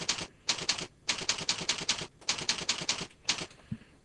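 A computer keyboard is typed on steadily and close up while a form name is entered in Google Forms. Crisp key taps come in rapid bursts of several strokes, split by short pauses, with no talking.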